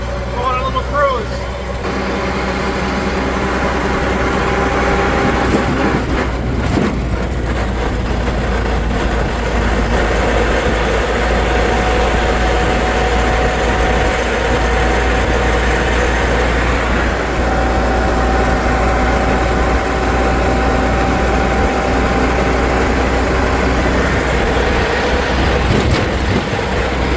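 Freshly rebuilt engine of a Willys Jeep running steadily on an evening cruise in Wisconsin, a constant low droning rumble throughout, with someone talking over it.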